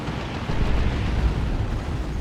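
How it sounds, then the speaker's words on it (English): High explosive shells bursting in Dawn of War 2: Retribution, a dense, rumbling wall of blasts and debris that swells after the first half second and stays loud and sustained to the end. "Kommando being all sneaky with his high explosive shells"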